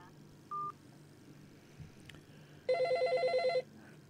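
A telephone gives a single short beep, then a louder warbling ring burst of about a second, heard faintly indoors amid low background noise.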